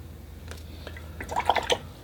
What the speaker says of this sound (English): A little bit of splashing of clean water